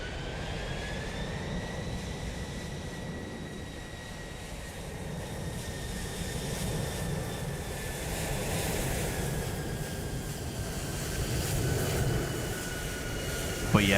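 A Boeing 747 approaching an airport in Microsoft Flight Simulator 2024, a steady jet engine roar with a rising tonal whine holding for the whole stretch, broad and fairly loud with no talking.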